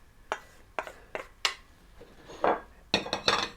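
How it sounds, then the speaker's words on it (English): Cannellini beans going into a pot of pork stew with a series of sharp clinks and clatters of a spoon or can against the pot, spaced irregularly and fairly close, with no talking. "Then get my cannellini beans in there."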